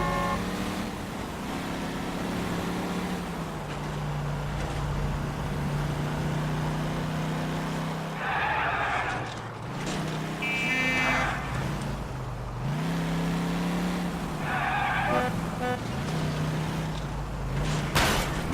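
A car drives in L.A. Noire, its engine humming and revving steadily, with rising squeals and whines as the tires skid through turns, loud and close throughout.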